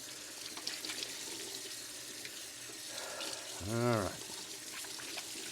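A washcloth is rinsed under a running tap, a steady hiss of flowing water underneath, while a voice speaks briefly partway through.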